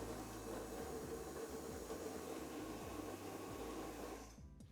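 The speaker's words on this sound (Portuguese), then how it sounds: "vamos bater a água com o óleo, ovo e a batata roxa no liquidificador" A blender whirs steadily as it mixes water, oil, egg and purple potato, a continuous motor drone with churning liquid that cuts off near the end.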